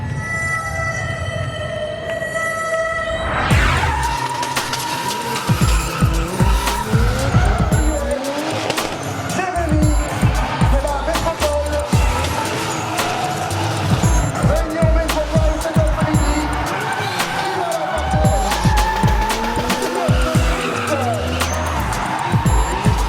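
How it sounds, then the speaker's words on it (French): Drift car at the Motor Expo 2019 show sliding with long, loud tire squeals and a revving engine, the screech rising and falling continuously for the full duration, with voices talking over it. "L'animation vedette du salon, c'est le drift avec Jérémy Mérires"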